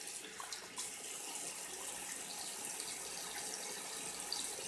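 Tap water runs steadily into a sink while makeup brushes are washed, a continuous close, fairly loud rushing stream with slight splashes from hands and brushes moving under it.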